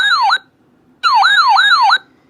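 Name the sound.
weather radio alert tone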